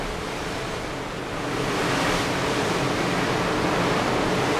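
Open-sea ocean waves wash and hiss continuously below a Disney cruise ship at sea, a dense, steady roar mixed with wind, growing slightly louder, with no talk.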